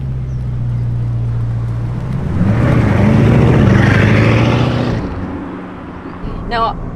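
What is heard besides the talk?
Bugatti Chiron accelerating hard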